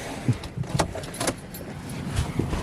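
Car keys jangle and clink in short metallic bursts, close by and fairly loud, as a key is put into the car.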